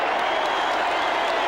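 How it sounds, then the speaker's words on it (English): A large crowd at the 1995 WAFL Grand Final roars and applauds as the West Perth team runs onto the field, a dense, sustained wash of cheering. "And the crowd erupt."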